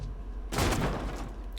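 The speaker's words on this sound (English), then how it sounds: "The door gives way with bang and you enter the room." A locked door in a video game breaks open with a sudden heavy bang, followed by a rumbling, crashing tail and scattered debris noise, loud and close with no talking.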